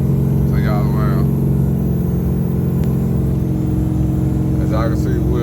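A car engine runs continuously while cruising at highway speed in overdrive, a loud, even low rumble with steady drivetrain hum and no letup. Someone talks briefly over it near the start and again near the end.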